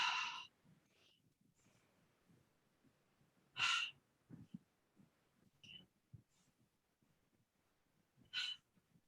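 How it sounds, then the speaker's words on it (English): Calm yoga breathing, drawn in through the nose and let out through an open mouth: a few soft, breathy exhalations at spaced intervals, close and quiet, with faint movement sounds between. "breathing in through the nose and out through an open mouth"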